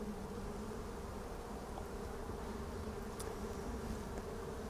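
Dense, steady hum of honey bees swarming over a frame pulled from a hive during a harvest, a continuous buzzing drone at moderate level with no speech.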